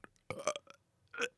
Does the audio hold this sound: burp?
yes